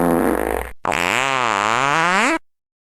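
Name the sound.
dog farting, Walter the farting dog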